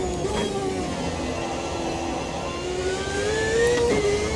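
Race car engine from the 1997 C.A.R.T. in Automobilista 2 at Bathurst, held at part throttle, a steady sustained drone with slowly rising pitch and a brief swell near the end, loud and without speech.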